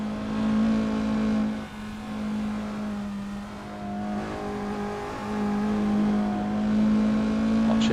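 A race car engine in a sim racing game at Canadian Tire Motorsport Park, droning at a steady high pitch with slight rises and dips, loud and continuous with no talk.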